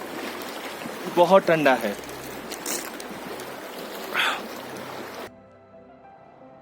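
An icy, high-altitude river in Ladakh rushes in a steady broadband wash. Someone speaks briefly over it before the sound cuts off abruptly near the end.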